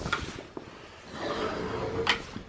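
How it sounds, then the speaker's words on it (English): Shower curtains are pulled closed in a home bathroom, with a brief sliding swish and rattle of curtain rings among a few soft knocks and handling noises, close by and with no talk. "Shall we close the curtains?"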